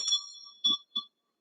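A meditation bell chimes during a yoga session: one clear ring decays gently, followed by two quicker, softer taps of the bell, isolated against near silence.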